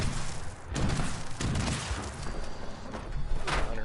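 Rapid gunfire bursts in the video game Fallout 76, dense and continuous with booming thumps layered throughout, loud and close.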